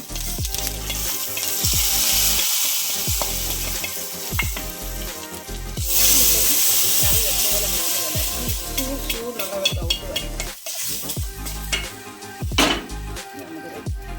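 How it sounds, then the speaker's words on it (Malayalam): Loud, continuous sizzling of shallots and curry leaves frying in hot oil, with repeated stirring clatters and scrapes throughout. "ചുമന്നുള്ളിയും കരിവേപ്പിലയും എല്ലാം നമുക്ക് അങ്ങോട്ട് ഇട്ട് കൊടുത്ത് നല്ലോണം മുപ്പിക്കാം"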